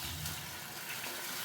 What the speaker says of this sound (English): And then I'm going to fill it with some water.